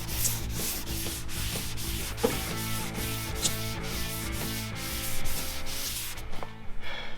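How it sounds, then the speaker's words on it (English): Steady back-and-forth scraping as a 180-grit block hand-sands body-shop glaze on a smashed Chevy High Country's bodywork, rhythmic and close, continuing without pause for several seconds with no talk. "I'm gonna hurry and take about an hour and sand this"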